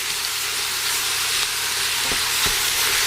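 Sausage meat made from a hot and mild mix sizzles in a pan before any olive oil goes in, a steady close frying hiss with a faint low hum beneath it and a couple of soft clicks near the end.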